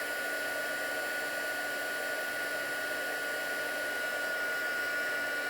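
Heat tool blowing on embossing powder to melt it, a constant loud whirring hiss with a steady tonal whine, unchanging throughout, no voices.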